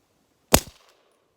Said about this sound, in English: I'm at like 60-something yards here, and I'm shooting through the can.